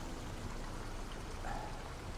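Water splashes and trickles in a town fountain on Germany's Romantic Road, a soft continuous pouring wash heard from a short distance, fairly faint.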